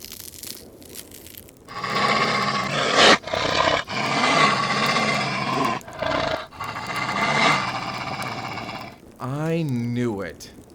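A giant wolf-like creature in a vampire slayer audio drama lets out long, loud, snarling roars in several surges, broken by brief gaps and ending in a wavering, howl-like growl.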